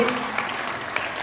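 An audience claps at an Independence Day function at a school in Jasidih, Deoghar, producing a brief burst of dense, steady applause from a crowd, with a voice faintly over it.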